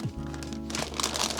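Plastic parts bags from a Mega Construx Hot Wheels set rustle and crinkle close by in a brief, busy burst of handling noise.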